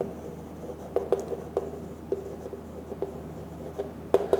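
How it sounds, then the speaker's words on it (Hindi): A formula being written by hand on a board during a physics lecture on RC circuits: quiet, irregular scratches and taps of the writing tool, faint and close, with no talking. "हीट प्रोड्यूस्ड का फॉर्मूला मैं एक बार लिख देता हूं"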